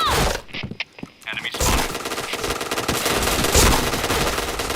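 Rapid bursts of automatic gunfire from the video game Point Blank rattle loudly and almost continuously, with a short lull early on before heavy sustained firing resumes.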